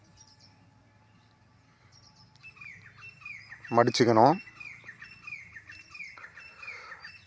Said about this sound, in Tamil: இங்கே ஆடியோ பதிவு பண்ணுற இடத்துல பறவைகள் டிஸ்டர்ப்லாம் இருக்குது